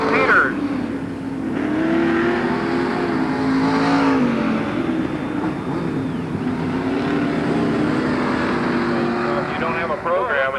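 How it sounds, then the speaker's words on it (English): A lapped race car passes on a racetrack, its engine droning and shifting pitch as it goes by while an announcer talks loudly over the sound throughout. "Another lap car comes by"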